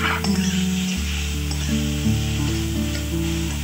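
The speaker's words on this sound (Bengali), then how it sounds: "এবারে সেদ্ধ করে রাখা কচুর পাতাগুলি দিয়ে দেব, দিয়ে কিছুক্ষণ ভেজে নেব।" Boiled taro leaves frying in oil with onion and garlic, a steady close sizzle with scraping stirring strokes over a continuous low kitchen hum, no voices.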